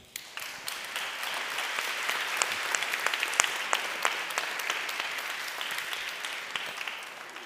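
An audience at a talk on the Arab world applauds to welcome speaker Iyad El-Baghdadi, a steady full-room wash of clapping that starts quickly and keeps going at an even level throughout, with no voices over it.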